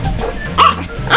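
Yorksie the dog yaps twice, two quick high barks about half a second apart, close and fairly loud over a low background hum, during zany adventures on the Great Loop.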